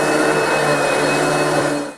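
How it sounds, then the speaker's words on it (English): Equine vacuum cleaner running steadily while grooming a mule or donkey for a show, a loud, continuous motor whine and airflow roar that cuts off abruptly at the end. "I take my equine vacuum cleaner to the show. So all I have to do is vacuum them"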